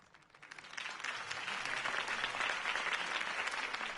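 Crowd applause following a campaign speech in Batman: The Telltale Series, swelling from quiet to a dense, sustained roar of many hands clapping that holds steady to the end.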